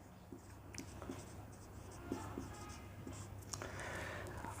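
Chalk or marker writing on a classroom board, light scratchy strokes and taps spread across a few seconds under a steady low room hum, fairly faint and close.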